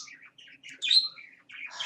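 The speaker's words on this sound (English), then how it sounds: "The birds are going to be loud today" Birds chirp outdoors in a series of bright, short twittering calls broken by brief pauses, fairly close and clear against a quiet background, with no voices.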